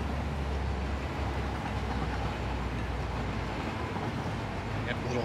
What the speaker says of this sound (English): this train's going to start delivering us some heavy oil already, which is going to be nice. So we're just going to ride along with the train here.